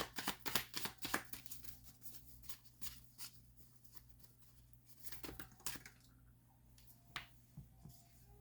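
Tarot cards shuffled by hand in a quiet room, a run of crisp riffling flutters and soft slaps, densest at the start and then coming in scattered bursts, with a steady low hum underneath.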